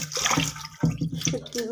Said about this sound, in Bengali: এই ভাজা শুটকিগুলো যাতে পানি ছেড়ে আমি ভালো করে ধুয়ে পরিষ্কার করে নেব